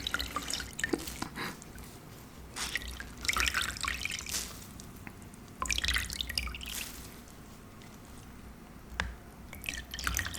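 Soapy water dripping and trickling close to the microphone, irregular bursts of splashy drips and small pours separated by quieter gaps, with a few sharp single drops.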